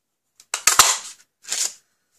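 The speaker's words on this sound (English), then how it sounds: "I'm going to cut this out with a 1 3/4 circle punch" A 1 3/4 inch circle punch cutting paper for a card: a couple of sharp, crisp clicks close together, then a softer second crunch a moment later, close by in a quiet room.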